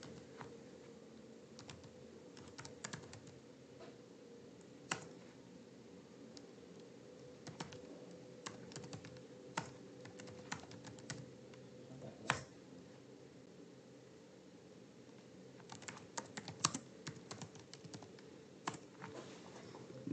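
Someone types data into a computer, with steady, fairly quiet keyboard clicks tapping in irregular bursts over a low background hum and no talking.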